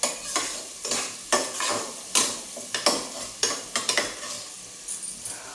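Onions fry in a pan and are stirred with a spatula, giving a steady sizzle broken by regular scraping strokes, close and with no talk.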